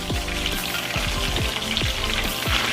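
A Scotch bonnet pepper drops into hot oil for Jamaican-style brown stew fish, setting off a loud, steady sizzle and crackle with popping spatters all the way through.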